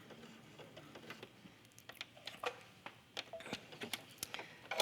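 Domestic sewing machine with a button sewing foot stitching a bar tack to attach a button, a quiet run of quick, uneven clicking stitches at close range.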